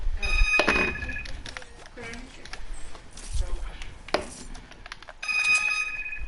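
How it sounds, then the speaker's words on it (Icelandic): A phone rings during a Fortnite session, with short bursts of bright electronic trilling at the start and again near the end. Voices talk over game noise between the rings. "Síminn til þín hörður"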